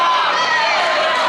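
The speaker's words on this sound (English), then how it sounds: "Now we're starting to hear that Viking crowd." A loud, steady roar from the Viking home crowd and cheer block at a high school boys' basketball game fills the whole moment, with no break.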